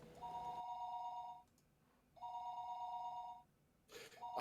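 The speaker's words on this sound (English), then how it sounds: "I thought that was a real life phone ringing." A telephone rings in the Higurashi visual novel, two long electronic bell trills separated by a pause and then the start of a third, clear and alone.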